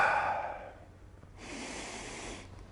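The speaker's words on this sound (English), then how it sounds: "Now let's get a little bit more breathing." Deep, steady breathing during a speed training workout demonstration, one long exhale followed by a breathier inhale, close and fairly quiet, with no talking.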